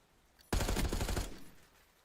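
A sudden burst of gunfire in an esports shooter match, a quick rapid volley lasting under a second, close and sharp before tailing off.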